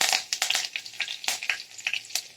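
Curry leaves crackle and spit in hot oil with cumin as tempering for Marathi pumpkin kadhi, giving a busy run of sharp pops and sizzling bursts up close with no talking.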